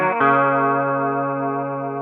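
A distorted electric guitar chord, strummed on the lower strings from a song part, rings out once and sustains steadily with chorus and effects, loud and alone.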